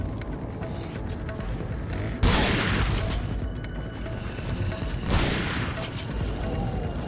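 Shotgun blasts from Resident Evil 4's Krauser assignment boom over a dense, continuous din of game noise, with two sharp, heavy shots standing out at separate moments.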